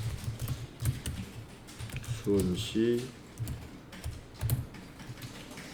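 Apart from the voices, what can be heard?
typing on a computer keyboard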